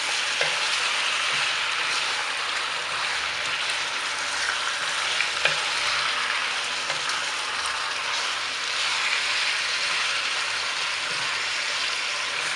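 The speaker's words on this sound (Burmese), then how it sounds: "မီးပူချိန်ပြင်းပြင်းလေးနဲ့လုံးဝပြီးကြော်ပေးပါမယ်ရှင်" Pork frying over high heat in a pan while being stirred, a steady dense sizzle with occasional scraping clicks of the utensil, close and loud with no voices.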